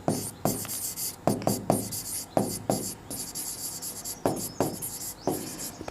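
A pen scratches out a class 10 maths solution in quick bursts of close, rasping strokes broken by short pauses, with no talking.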